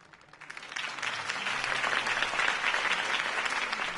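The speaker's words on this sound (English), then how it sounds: "could have heard that applause" Crowd applause in a Batman video game following a campaign speech, a steady dense patter of clapping swelling up after a quiet start and holding at a moderate level.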